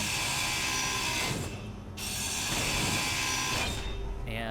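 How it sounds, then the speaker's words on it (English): A structure is ground down in Space Engineers, a loud mechanical grinding ratchet that runs steadily, cuts out briefly near the middle, then resumes. "And I'm gonna tear down the antenna."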